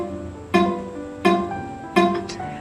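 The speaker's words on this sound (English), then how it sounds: "if we place it on the fret, it creates a muted sound like this" Muted guitar notes with the finger resting right on top of the fret: three dull, short plucks about three quarters of a second apart, each with a thin buzzing decay, heard alone.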